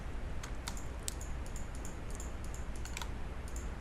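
Rapid mouse clicks while crafting Certus quartz ore from essence in modded Minecraft, a scattered series of short, light clicks over a steady low hum.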